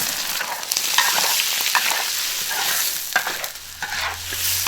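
Scallions, sausage and potatoes hiss and crackle loudly in a hot wok while being stir-fried, with scraping spatula strokes against the metal throughout.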